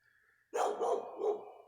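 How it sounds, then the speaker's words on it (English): A dog barks in a quick burst of three or four loud, close barks, sharp and overlapping, cutting in suddenly after a faint steady tone. "The dog won't shut up."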